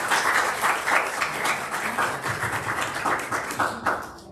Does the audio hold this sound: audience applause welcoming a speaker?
yes